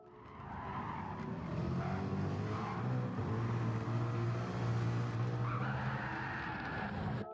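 A race car in Gran Turismo 7 spins out, tires squealing and skidding in a sustained howl over the engine's drone, with the noise rising and falling as the car slides around.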